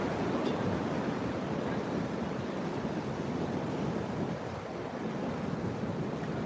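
Rough ocean surf at Jupiter Inlet makes a loud, continuous, roaring wash with gusty wind buffeting the microphone and no voices.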